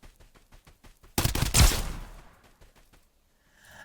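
Gunfire in the top-down shooter Escape from Duckov: a single loud burst of shots that rings out and trails away, following a stretch of quieter rhythmic clicking, with no voices over it.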